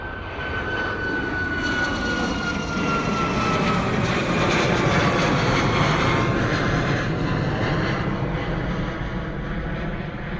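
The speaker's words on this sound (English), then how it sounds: "beautiful departure from the 737 Ryanair. Nice and loud for us as well." A Ryanair Boeing 737 jet departs Bristol Airport with a loud, sustained broadband engine roar that builds and holds steady throughout, heard close by without any talking.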